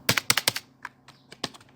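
Keystrokes on a computer keyboard while typing CSS code, a quick burst of about five sharp clicks followed by a few scattered taps, close and clear.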